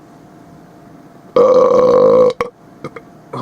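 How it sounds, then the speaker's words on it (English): A loud, drawn-out burp after drinking root beer, lasting about a second from near the mic. A brief spoken exclamation and a few small clicks and thumps follow in an otherwise quiet room. "That was a nice root beer burp."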